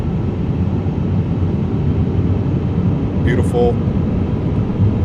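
Airbus A350 engines spool up in MSFS 2024, a steady, loud broadband roar of rising thrust that holds throughout, with a brief spoken word over it.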